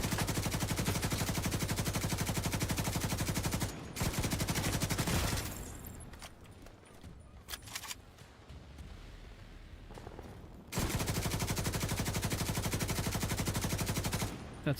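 Rapid automatic gunfire in a shooter video game, loud sustained bursts of machine-gun fire that stop abruptly, leave a quieter stretch of scattered shots and rumble, then resume at full intensity.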